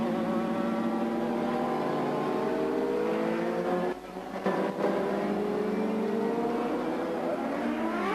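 CART Indy race cars scream past on the Long Beach street circuit in 1997, several high-revving engines with rising and falling pitch, fairly distant, one brief dip as a car passes.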